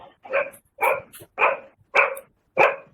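A dog barks five times in a row at a steady pace, loud and close, with short gaps of silence between each bark.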